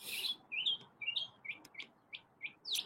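Chirpy, a pet bird, gives a string of short bright chirps, about ten quick tweets in an uneven rhythm, close and clear against a quiet room.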